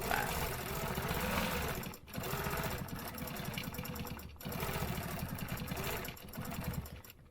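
A sewing machine stitching a stencil design, running in fast even bursts with short pauses between them, loud and close with no talk.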